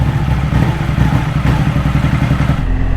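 A BMW R1200 GS motorcycle engine idles close by with a loud, steady, pulsing low rumble and a faint mechanical clatter, running continuously before easing off near the end.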